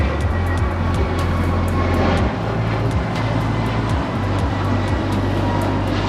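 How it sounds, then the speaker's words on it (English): An Alaska Airlines Airbus A321neo departs Los Angeles International Airport, a steady, loud jet roar with deep low rumble and broadband hiss sustained throughout. "This is Alaska Airlines 310 departing to Washington Dulles on an A321neo in the Mortalove livery"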